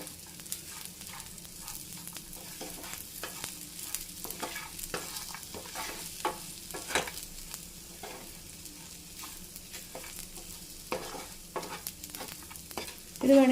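Ripe banana dish with roasted cashews and raisins being stirred in a pan, a steady low sizzle under repeated scraping strokes of a spoon, close and fairly quiet throughout, with no voices.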